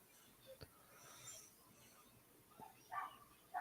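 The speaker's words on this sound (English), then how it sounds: "dog is going insane about this match" A pet dog barks and yips faintly in a room during a wrestling broadcast, a few scattered short yelps over low background noise and muffled voices.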